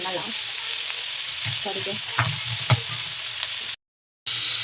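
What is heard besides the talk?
potato filling frying in a pan for aloo paratha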